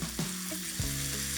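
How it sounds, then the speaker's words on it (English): Ginger fries in a pan with rice wine vinegar and olive oil, giving a steady close sizzle with a couple of soft scraping stirs, no talk. "I'm going to pop my ginger in there"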